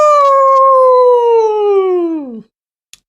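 A person imitates a wolf-like howl with their voice, one loud, close, sustained call lasting over two seconds that slowly slides downward in pitch before breaking off, followed by a faint tap.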